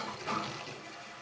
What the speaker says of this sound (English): Let water fill into the tank.